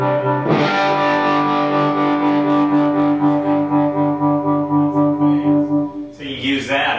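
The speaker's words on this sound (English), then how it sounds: "with a tube style tremolo, when it gets hit with a hard signal, it's like, wow, it's choking" Electric guitar through a tube-style tremolo amp, a distorted sustained chord pulsing in steady waves as the hard signal chokes and then throbs while it fades, followed by a fresh strum.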